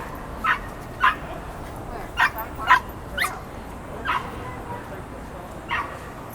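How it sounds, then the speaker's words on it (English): A little dog gives a string of about eight sharp, high yips and whimpering barks, spaced irregularly, fairly close over a quiet background. "Little dog."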